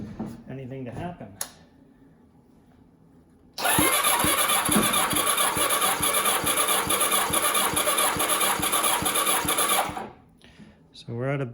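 A 1990 Kawasaki ZXR 750 engine cranks on the starter during a compression test, a loud rhythmic churning of about six seconds that cuts off abruptly, with someone talking before and after.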